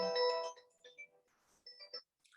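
A mobile phone ringtone plays a short melodic tone at moderate volume, followed by faint brief sounds and quiet gaps.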